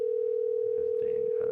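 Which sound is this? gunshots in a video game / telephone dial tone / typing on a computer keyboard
telephone dial tone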